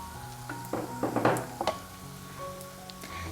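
Crushed ginger and garlic drop into a hot pan for pepper chicken, setting off a burst of crackling sizzle with a few stirring scrapes, then settling into a quieter, steady fry.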